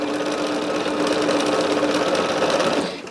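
A sewing machine stitches cotton quilt pieces for a Tree of Life quilt, running in one steady, continuous whir close by, with no voice over it, before it winds down at the end.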